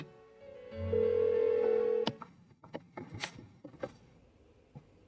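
Telephone ringing unanswered in the video game Persona 4 Golden: a steady electronic ring tone holds for about a second, then breaks off into scattered clicks and blips, moderately loud with no voice.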